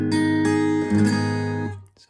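Guitar chord barred across the second fret, strummed and held so it rings out full and sustained for almost two seconds before being damped, close and alone.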